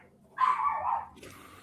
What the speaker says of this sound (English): David is antagonizing his dog,